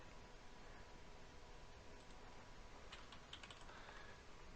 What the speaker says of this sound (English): let's type out this command real quick.